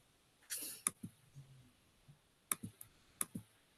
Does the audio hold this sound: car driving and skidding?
no